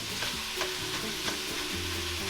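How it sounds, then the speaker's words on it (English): Ground pork sizzles steadily in a hot pan while a spatula chops and scrapes through it, with soft tapping strokes over the constant frying hiss, close and fairly loud, no talking. "So you're going to chop up your meat while it cooks"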